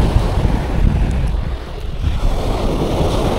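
Rough sea waves surge and wash onto a beach in a steady, loud roar, heavy wind buffeting the microphone throughout with no voices.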